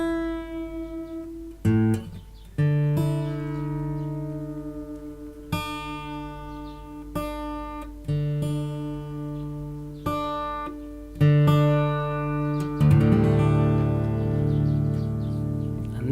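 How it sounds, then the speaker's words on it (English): Guitar strings are plucked one after another as the first string is tuned down from E to D for DADGAD tuning, each note ringing out and fading before the next, with a final strummed open chord. "take the 1st string, which is currently E, take that down to a D."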